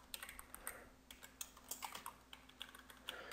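Quiet, rapid keystrokes on a computer keyboard while JavaScript code is typed out, an irregular clatter of close, light clicks running steadily with no talking.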